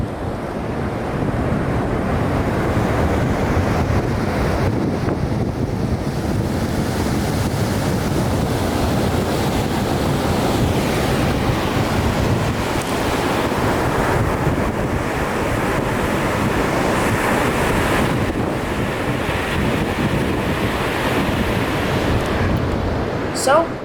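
Ocean surf rolls in steadily at Tide Park Beach in Solana Beach, California, a broad continuous wash of waves mixed with heavy wind buffeting on the microphone, with a voice talking over it for most of the stretch.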